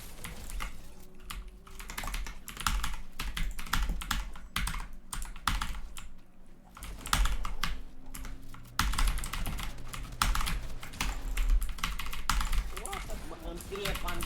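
Fast, heavy typing clatters on a computer keyboard during a game, continuous bursts of keystrokes with someone talking over them.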